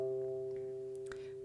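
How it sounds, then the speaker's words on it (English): A single harp string, the C, tuned to C natural, is plucked and rings as one steady, sustained tone that slowly fades, with a faint brief rustle near the end and no talking. "you've tuned this C to C natural"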